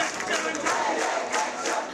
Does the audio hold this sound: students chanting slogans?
yes